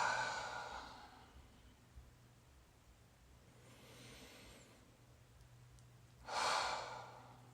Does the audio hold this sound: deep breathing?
yes